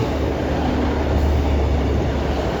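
A Class 150 diesel train passes through Doncaster station with a loud, steady rumble and rail roar, close by and with no voices over it.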